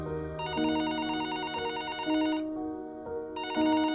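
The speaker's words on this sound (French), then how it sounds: "le téléphone de la maison sonne" A house telephone rings, its electronic tone warbling in repeated bursts with a brief pause between rings, close and clear with no one speaking.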